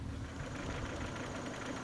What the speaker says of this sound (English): And you can hear a little rattle.